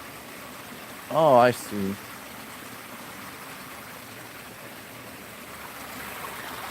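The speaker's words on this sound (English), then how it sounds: "you can see there's this little waterfall here that comes from the snow leopard enclosure down here under the bridge" A small waterfall spills into a zoo canal beneath a bridge, a steady, even rushing of water throughout, with a short spoken remark near the start.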